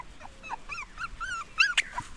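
A lively puppy lets out a string of short, high, rising-and-falling whimpers and yips, ending in a sharper squeal. The sounds are close and clear, with nobody speaking.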